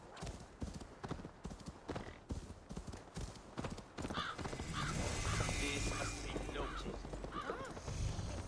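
Horse hooves clip-clop steadily beneath a rider in Assassin's Creed Valhalla, a rapid rhythmic pounding that grows louder midway, with crows cawing and a voice speaking over the ride.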